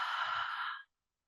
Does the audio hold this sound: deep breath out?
yes